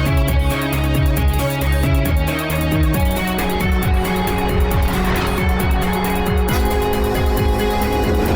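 A car races and brakes in a Hindi action film scene, engine roaring loudly with tyres squealing and skidding as it comes to a stop, close and continuous.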